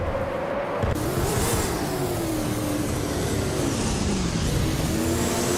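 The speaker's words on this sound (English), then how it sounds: "Mafia Mavi is driving a 2018 Holden Commodore ZB" 2018 Holden Commodore ZB race car in a racing video game, its engine revving steadily and loudly throughout, pitch rising and falling through gear changes with no one talking.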